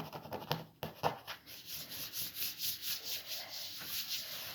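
Brisk rhythmic rubbing on a self-healing cutting mat during cleaning, close and fairly loud, with quick back-and-forth scrubbing strokes that settle into a steady pulse.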